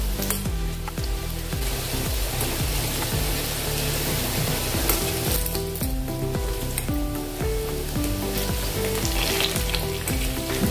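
Pakoras for palak matar sabzi frying in oil over a medium gas flame, giving a loud, steady sizzle with no break for the whole stretch.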